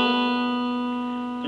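Guitar notes with a slide on the 3rd string from the 2nd to the 4th fret, one sustained, steady tone ringing clearly for a moment.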